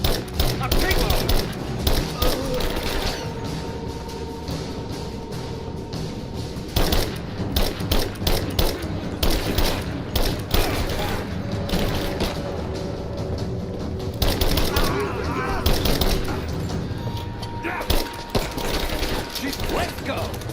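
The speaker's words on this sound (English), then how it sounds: "Give me some rapid fire now! Rapid fire!" Rapid automatic gunfire from the video game Rise of the Tomb Raider, dense bursts and mechanical clatter running almost continuously with brief pauses, loud and close.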